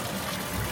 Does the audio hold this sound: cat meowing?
no